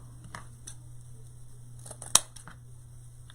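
Scissors cut through thick deco mesh for a wreath, a few soft snips followed by one sharp, loud clipping crunch, close up over a steady low hum.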